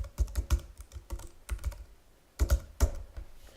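Typing on a computer keyboard, close and crisp, with clusters of quick keystrokes separated by short pauses and no talk.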